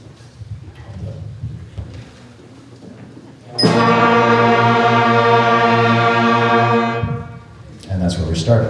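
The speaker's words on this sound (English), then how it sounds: "they learned which buttons to push to play their first note, which was a B flat" Sixth-grade beginning band students play their first note together, a sustained B flat held as a loud, steady ensemble tone for about three and a half seconds, with room noise and chatter before and after.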